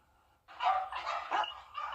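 Stray dogs roaming in Screven County bark in a short run of about four sharp, fairly close barks, with a brief pause between the later ones.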